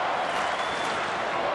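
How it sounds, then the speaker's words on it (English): Stadium crowd noise at an Australian football match between Fremantle and Brisbane, a dense steady wash of cheering and applause from a modest crowd, with a commentator's voice on top. "Not a big crowd here tonight, but they're starting to find their voice."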